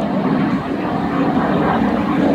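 An L-39 Albatros jet flies an aerobatic display with smoke over an airfield, its engine giving a loud, steady roar throughout with no break.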